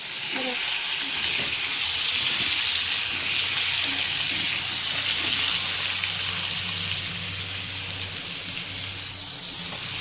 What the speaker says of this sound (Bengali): আলু আলু ফ্রাই করে নিতেছে